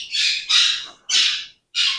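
A pet bird squawks loudly nearby, four harsh shrill calls in quick succession with short gaps between, indoors in a plant room, no talking.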